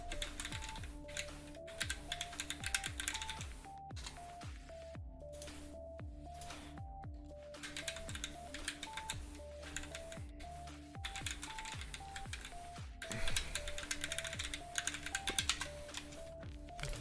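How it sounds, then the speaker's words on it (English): Steady, fast typing on a computer keyboard, with close, crisp key clicks in continuous bursts and brief pauses, set over a faint repeating background tone. "Typing ASMR."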